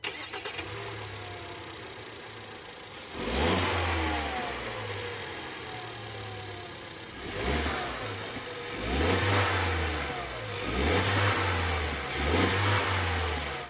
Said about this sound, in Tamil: ஸோ இப்போ நான் என்ஜினை வந்து ஸ்டார்ட் பண்ணுறேன்